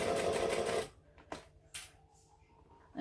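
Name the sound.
sewing machine stitching vinyl along piping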